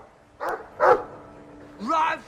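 A dog in the video game Dragon Age II gives two short barks, then a longer whining yelp after a pause, at moderate loudness and close by.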